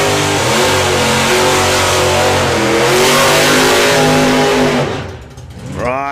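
Two fast cars on a track-day strip launch hard off the line, engines revving loudly through several upshifts before fading away, followed by a rising engine whine at the end.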